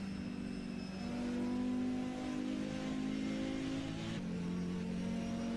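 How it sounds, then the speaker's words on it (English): Turbocharged racing car engine in the DTM Classic racing game, revving hard and holding a high note, with two gear changes dropping the pitch before it climbs again; loud and continuous, no talk. "Just listen to that turbo also."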